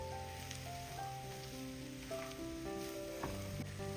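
Egg fried rice is stirred in a hot pan. A steady, fairly quiet sizzle with light scraping runs under melodic background music, and no one speaks.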